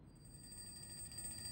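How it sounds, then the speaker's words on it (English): Alarm clock ringing in a room in the video game Reverse 1999, a faint, steady high-pitched electronic tone sounding continuously over a low background hum. "another alarm clock starts ringing from somewhere in the room"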